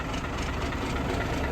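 A tractor-trailer truck engine idles while its air system builds pressure, a loud, steady low rumble with a constant droning texture and no breaks.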